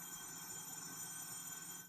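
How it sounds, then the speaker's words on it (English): An old landline telephone ringing continuously, a steady shrill electronic ring filling the whole stretch at moderate distance with no talk over it. "Sorry, it's just going to ring and ring and ring because I thought the ringer was off."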